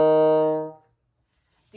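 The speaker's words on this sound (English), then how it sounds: "And again, that E flat is going to sound like this." A bassoon plays a single held middle E flat, with a clear, reedy tone that rings briefly and fades into silence.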